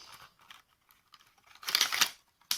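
A box of beads with stems is opened, giving soft plastic clicks and rattles, then a louder burst of crinkling and rustling from the packaging, with a short final rustle.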